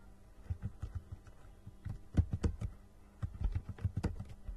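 Typing into a search bar on a computer keyboard: soft, irregular clusters of keystrokes, close and fairly quiet, with brief pauses between bursts and no talking.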